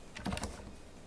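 Several quick keystrokes on a computer keyboard enter a shortcut, a short cluster of light clicks close by with no voices.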